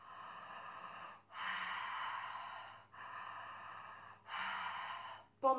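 Ujjayi breathing, air rubbing in the throat against the vocal cords: three long, hissing, oceanic breaths in steady rhythm, close and fairly loud, separated by brief pauses, with no talk.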